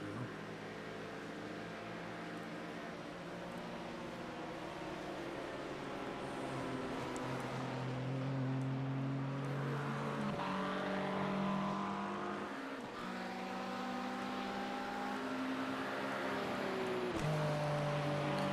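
A race car engine in the iRacing sim during a Daytona endurance race, droning steadily and loudly throughout with rising and falling revs and brief dips at gear shifts, a music track playing along.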